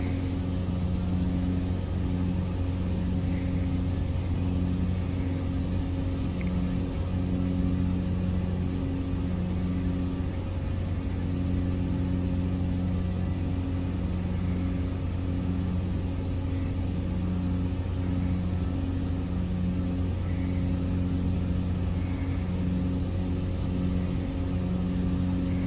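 Simulated aircraft engine in Microsoft Flight Simulator 2020, a light plane on tundra wheels droning at high RPM, with a steady, loud, continuous hum and no speech.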